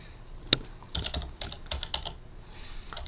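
Keys on a computer keyboard clack in short, quick bursts as a stock ticker is typed in, close and crisp, with one sharper tap near the start and uneven pauses between strokes.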